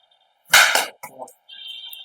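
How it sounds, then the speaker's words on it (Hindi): A coconut held in the hand is struck with a wooden lathi staff, giving one loud sharp crack followed by a shorter knock, then quieter rustling. "ये देखिए ये लट के द्वारा नारियल फूट जाता है"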